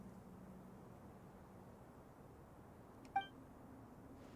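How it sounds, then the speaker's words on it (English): A robot in the video game Genshin Impact gives one short electronic beep, a bright, brief tone over a quiet steady hum with no voices. "Beep, beep. Beep, boop. Beep, beep."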